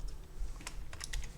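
Light typing on a computer keyboard: a handful of soft, scattered key clicks in a quiet room, faint and close, with no voices.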